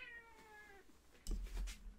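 A pet cat makes an unusual wavering, trilling meow that slides downward, then gives a couple of louder, harsher bursts up close, with no talking.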